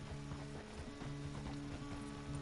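Hooves clip-clop steadily on a horse being urged forward in a PS4 video game, a rhythmic run of near, moderately loud beats over a constant background hum.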